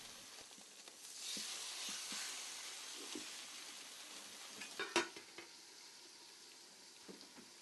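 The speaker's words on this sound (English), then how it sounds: "After preheating for a couple of minutes, place the fish in the skillet with the cover slightly ajar to prevent splattering" Fish frying in a preheated skillet with the cover slightly ajar, a soft steady sizzle and hiss broken by scattered light clinks of utensil and pan, one sharper knock midway, fairly quiet with no voices.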